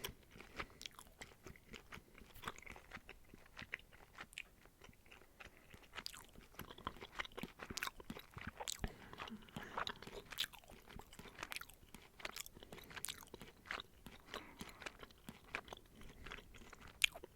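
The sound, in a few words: chewing gum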